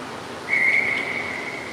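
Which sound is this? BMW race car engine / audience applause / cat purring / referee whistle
referee whistle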